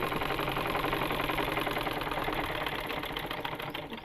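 A sewing machine runs steadily as it stitches the waist seam of a dress, giving a close, continuous mechanical whir with a fine rapid rhythm for about four seconds. No one speaks.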